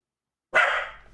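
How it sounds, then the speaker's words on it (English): A single sharp bark from a pet dog reacting to someone outside, close and loud, bursting out of silence and tailing off over about half a second. "she barks when somebody's outside"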